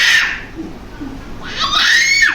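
A small child screaming while held for a haircut, a loud shrill wail that breaks off, then a short gasp, then a second high scream rising again, close by.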